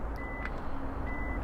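The smart trunk of a 2020 Genesis G70 3.3T Sport Prestige sounds its alert as it opens electrically, giving two steady electronic beeps spaced about a second apart over a low background rumble.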